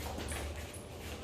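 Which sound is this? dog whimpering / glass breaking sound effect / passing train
dog whimpering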